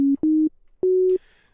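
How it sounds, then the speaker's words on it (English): Two sine-wave tones from a Pigments synthesizer patch with wavetable engines, played as three short clean held notes with gaps, each slightly higher in pitch than the last. "So we have 2 sine waves."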